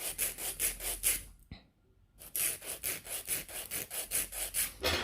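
A nail file rasps back and forth across the tip of a fingernail, held at a bevel, in a close, quiet, regular series of scratchy strokes that pause briefly before resuming at the same steady pace.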